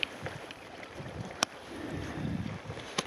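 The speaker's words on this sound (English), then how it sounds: "It's just kind of an annoying wind from the south right in my face." Wind from the south blowing into a kayaker's face on Alaskan coastal water, buffeting the microphone in low gusty rumbles with a couple of sharp knocks.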